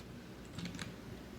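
Brief, quiet burst of several soft keystrokes on a computer keyboard while filling in a web form, set against a steady low hum.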